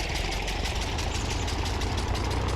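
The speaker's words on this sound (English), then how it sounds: "let's start the engine first" A farm machine engine idling in Farming Simulator 19, a steady, fairly loud mechanical rumble with rapid, even knocking pulses and a constant low drone, with no change in pace.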